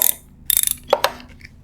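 A ratchet with a 5mm hex socket backing out an ABS sensor screw on a Yamaha FJR1300 motorcycle wheel, with rapid sharp pawl clicks in bursts followed by a few metallic clinks, close and loud.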